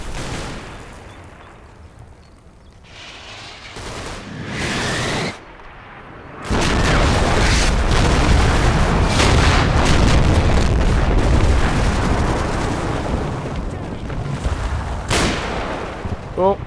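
Gunshots and explosions in the World War II game Combat Mission: Battle for Normandy, scattered sharp reports early, then a sudden loud sustained roar of firing and blasts that stays heavy to the end, with someone talking over it.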